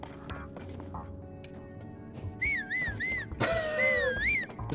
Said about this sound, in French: Il se met à siffler de nulle part.